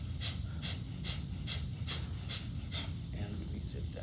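Steady rhythmic breathing during a held yoga pose in a group class, each breath a soft airy puff repeating about twice a second over a low background hum.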